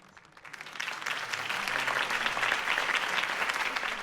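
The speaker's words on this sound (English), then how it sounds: "could have heard that applause" A video game crowd bursts into applause at a city political campaign speech, swelling quickly and holding as a dense, steady wash of clapping.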